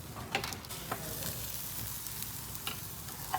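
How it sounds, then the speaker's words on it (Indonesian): Soft sizzling of bread being pressed flat and toasted in a pan, with a few sharp scraping clicks from pressing at irregular moments, close and fairly quiet. "Kita gepengkan lagi nih rotinya, agak ditekan ya guys ya"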